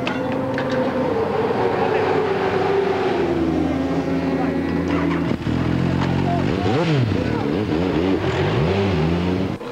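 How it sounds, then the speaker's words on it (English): The works Benelli endurance racing motorcycle rolls into the pit lane at Assen, its engine droning and dropping in pitch, then blipping and revving in sharp rising and falling bursts against busy pit-lane background noise. "The works Benelli in for a pit stop"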